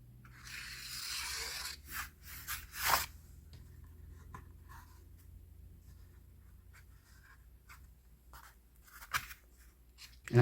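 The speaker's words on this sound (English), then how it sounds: "I'm just going to use a Sharpie." A Sharpie marker squeaks and scratches across paper in short strokes with pauses between, close and fairly quiet, with no talking.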